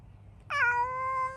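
A black cat named Midnight lets out a single clear, drawn-out meow close by, lasting about a second in a quiet garden setting.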